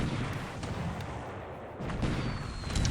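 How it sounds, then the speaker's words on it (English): Naval bombardment of Wake Island atoll by battleships and destroyers in a World War II strategy game: a steady rumble of dull, overlapping distant booms and artillery thuds, continuous for the whole stretch with no talk over it. "Some battleships and destroyers bombarding the atoll here."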